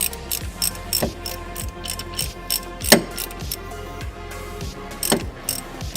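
A socket ratchet tightens nuts on a Volvo V50, a loud, close, steady run of rapid pawl clicks in repeated short strokes with a brief pause between pulls.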